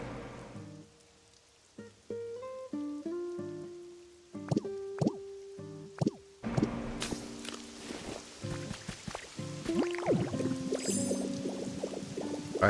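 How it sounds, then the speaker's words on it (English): Water splashing and pouring from a hot spring shower in the Pokémon Pokopia video game, a steady patter with plops and splashes mixed among game chimes and tones, moderately loud throughout. "Hot spring shower for both Psyduck and Golduck."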